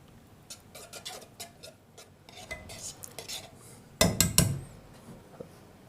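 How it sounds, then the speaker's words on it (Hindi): Milk cream being whisked in a bowl for a custard trifle, with a run of light scraping clinks and taps that build to a louder burst of rapid metal-on-bowl strokes near the end, close and with no talk. "अब हम इसको फेंटों की मदद से अच्छी तरह फेंटेंगे।"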